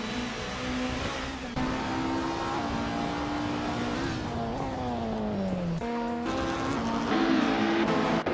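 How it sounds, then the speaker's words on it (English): Engine of a 1991 Nissan Primera P10 racing car in a racing video game, loud and close, revving up through the gears with sharp pitch drops at each shift and occasional tire squeal. "Maya is currently in the 14th place driving a 1991 Nissan Primera P10"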